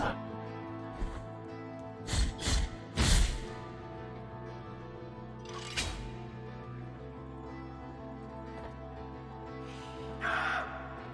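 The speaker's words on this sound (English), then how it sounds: "The screeching crow hermits." Screeching crow hermit enemies in the video game Blasphemous give harsh cawing screeches, a few sharp calls clustered early, another a little later and a faint one near the end, over a low droning background.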